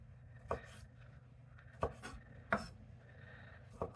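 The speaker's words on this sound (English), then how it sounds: "I want to chop these up pretty good" A knife cuts tomatoes on a cutting board for bruschetta, giving four sparse, uneven taps spread over a few seconds, faint and close against a low background hum.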